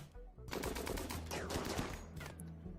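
Colonists in the Rimworld video game firing at an insect hive, a loud stretch of rapid overlapping gunshots and machine-gun bursts that starts abruptly after a brief quiet and keeps rattling to the end.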